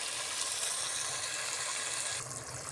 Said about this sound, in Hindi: अब यहाँ मैं इसमें थोड़ी सी क्वांटिटी जो है वो पानी की ऐड करूँगी